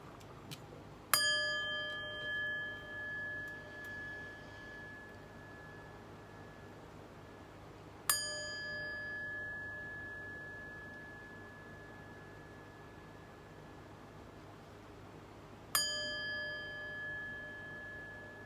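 A chime rung three times at slow, even intervals, each strike bright and ringing with a long, clear decay fading into a quiet, faintly humming room; no talking.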